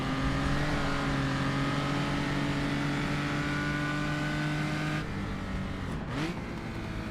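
A historic sports race car at the Rouen circuit, its engine droning loudly at steady high revs, then briefly dropping and blipping as it downshifts into third gear.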